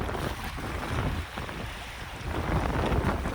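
The lake freighter Indiana Harbor entering the mouth of Conneaut Creek, a steady low rumble of the ship and water under heavy wind buffeting on the microphone, continuous and loud, with no talk.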